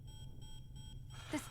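Starship alarm in the video game Tales of Arise: faint, evenly pulsing electronic tones repeat about every fifth of a second under a low rumble, then break off as a voice begins speaking.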